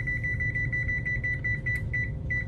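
A kitchen timer beeps repeatedly while it is set, giving a steady train of short, high electronic pips over a low background hum, with no speech.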